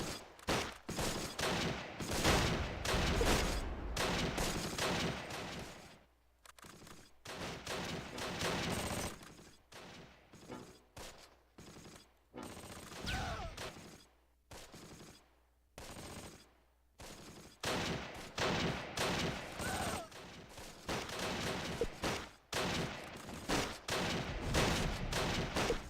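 In the World War II tactical game Close Combat: Last Stand Arnhem, gunfire comes in dense volleys of rifle and machine-gun bursts, loud and near, broken by short quiet pauses.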